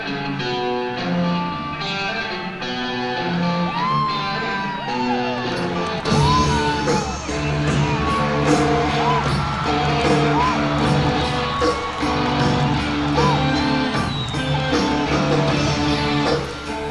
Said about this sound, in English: And the crowd went nuts.